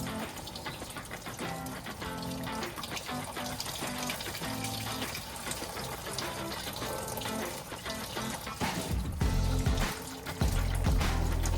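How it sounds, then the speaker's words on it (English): Old green coolant drains from the detached lower radiator hose of a Lexus LX450 into a bucket, a steady close splashing pour that grows louder and heavier toward the end. "I drained by removing the lower radiator hose"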